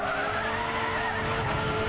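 Tires skidding and squealing continuously as a car drifts in Gran Turismo 6, a sustained high screech over engine roar with no pauses.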